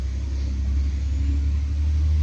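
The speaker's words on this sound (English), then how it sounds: "Shitloads of traffic today." Road traffic passing through a village, heard as a steady, loud low rumble of vehicle engines that holds without a break and has no voices over it.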